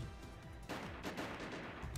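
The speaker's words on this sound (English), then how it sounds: "the surrounding men shot at him and the bullets whizzed by Yang's eyes" Gunfire from a group of surrounding men in a tense anime-style visual novel fight scene, a dense crackle of rapid shots that starts abruptly partway through and keeps going, loud and busy, with no voices.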